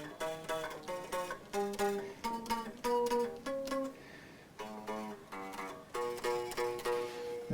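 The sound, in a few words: fret slap on Hartwood 335 guitar low E string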